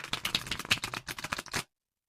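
A tarot card deck being shuffled, a fast riffling patter of cards falling together for about a second and a half before stopping abruptly, close-up with no voices.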